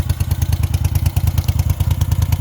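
A 1971 Moto Guzzi Ambassador police motorcycle engine running at a steady idle, with an even, rapid thumping beat and mechanical clatter, close and loud with no talk.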